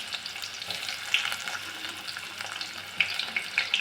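Cumin and onions fry in a pan for an eggplant and potato sambar, giving a steady close sizzle with light crackles and a few sharper pops, no voices over it.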